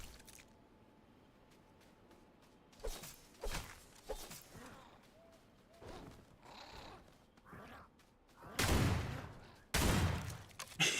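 Shotgun blasts in a video game, several loud broadband bursts spaced irregularly over quiet ambience, the last two heavy and close together near the end.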